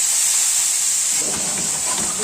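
Sausage sears loudly in a hot, unoiled pan for a few seconds of steady, close-up hissing sizzle that carries on unbroken on its own.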